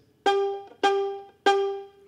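Three plucked G notes on a violin or cello D string sound one after another, each a clear, close pizzicato pluck that rings and fades quickly, spaced about half a second apart with quiet in between.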